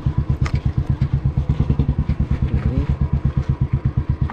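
A motorcycle climbs a steep hill road on Kootagal Thimmappana Betta near Ramanagara, its engine thumping in a fast, steady, close pulse that stays loud and even throughout, with no voices over it.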